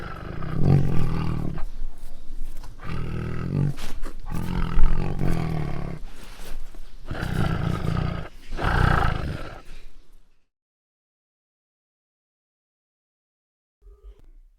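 A tiger roars repeatedly, deep growling bursts in several rough pulses, loud and close, before the sound stops and silence follows with a faint knock at the very end.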